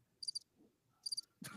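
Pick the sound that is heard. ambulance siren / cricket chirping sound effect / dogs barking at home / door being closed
cricket chirping sound effect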